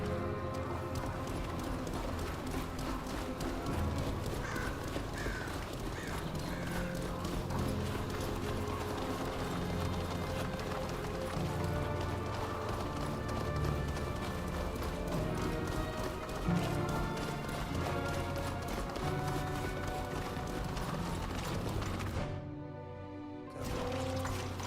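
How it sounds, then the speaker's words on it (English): Quick, noisy clip-clopping footsteps of a guard in the video game GreedFall 2 patter steadily and rhythmically over a continuous bed of game music, fairly loud throughout before cutting out briefly near the end. "Those quick, noisy footsteps are typical of the guard."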